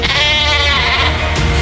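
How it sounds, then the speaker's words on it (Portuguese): A sheep bleats loudly and close by, one long wavering cry calling out across the field, with no talking over it. "Quando a ovelha ouve a voz do seu pastor, ela grita."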